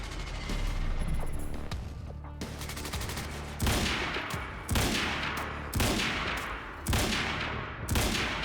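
Automatic rifle gunfire in the video game Quantum Break, a steady loud stream of shots broken into several sharp bursts, with brief exclamations from a player.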